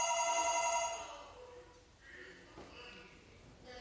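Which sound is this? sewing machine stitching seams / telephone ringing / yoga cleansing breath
telephone ringing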